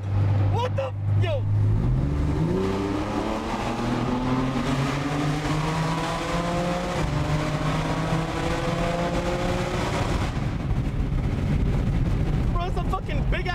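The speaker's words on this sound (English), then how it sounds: "Fucking big ass monster truck cutting up, bro." A big monster truck engine roaring and climbing through its gears in New York traffic, loud and close with rising revs, while someone speaks excitedly over it.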